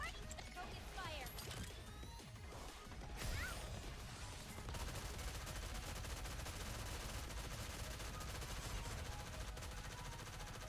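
Dense, continuous video-game gunfire, with rapid automatic bursts, clattering impacts and mechanical noise layered into a loud, unbroken wall of sound throughout.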